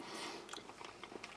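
Close, soft chewing of a mouthful of Russian army ration potatoes moistened with beef fat, a few moist crunchy bites over a low hiss, with no talking.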